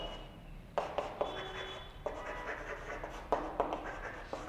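Chalk or marker scratches and taps across a classroom board in short irregular strokes, close and fairly quiet, with no voices.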